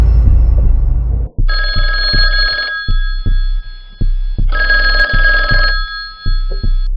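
An old-style telephone bell rings in two long bursts over a slow, heavy thudding like a heartbeat, giving an eerie horror-story mood with no voices.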